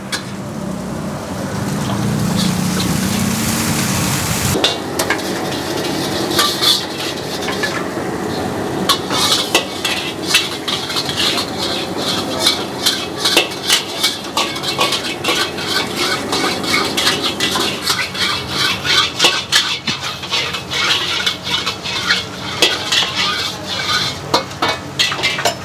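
Rapid stir-frying in a pan at a busy food stall, with clattering utensil scrapes and a steady sizzling hiss running throughout, loud and close.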